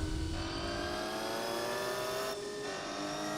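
A car engine accelerates under full throttle in Gran Turismo 4, running on sports tyres, with a steady high revving drone and a shift partway through, loud and continuous with no speech over it.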